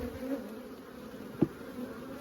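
Angry honeybees buzzing at a hive, a steady droning hum with one brief louder pass, no talk.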